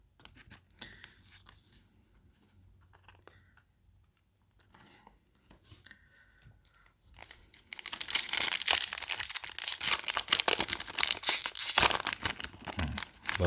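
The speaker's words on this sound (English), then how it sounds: "Love the sound these packs make when opening." Yu-Gi-Oh! Blazing Vortex foil booster packs are torn open: a few soft rustles, then a loud, dense stretch of crinkling and ripping foil up close, with no talk.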